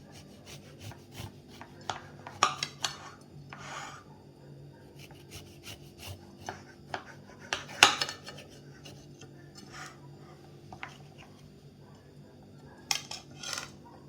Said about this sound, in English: Now let's cut the cake and see how it is from inside.